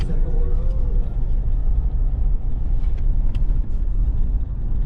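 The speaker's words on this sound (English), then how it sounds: "We're just doing a bit of driving." A car travels along a rural back road near Beachport, with a steady, loud low-frequency rumble of engine and tyre noise running continuously throughout and no voices.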